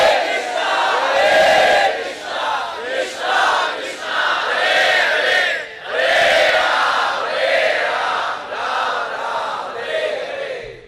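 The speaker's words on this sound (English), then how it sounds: "simply by the loud congregational chanting of the Hare Krishna Maha" Many voices chanting the Hare Krishna Maha Mantra together, a loud, sustained group chant rising and falling in waves with brief dips between phrases.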